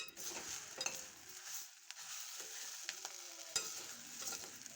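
Drumstick leaves sautéing on low heat in a pan for sambar, with a steady soft sizzle, occasional stirring scrapes and a few light clinks, no talk.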